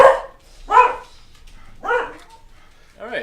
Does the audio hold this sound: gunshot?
no